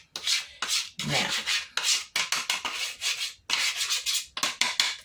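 Rhythmic scraping of a utensil around a pot, pulling out leftover gravy in repeated rough strokes with short pauses between bursts, close and clear with no talking.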